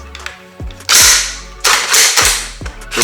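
Sharp, loud metallic clacks ring out from a gas-driven bullpup rifle as its action is cleared, with several distinct snaps and rattles spaced across a few seconds and no talking.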